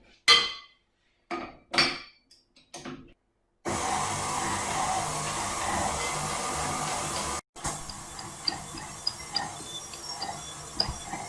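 A stand mixer with a dough hook kneading currant and raisin dough, starting with a few short knocking bursts, then a steady loud motor whir with rattling that continues on after a brief break.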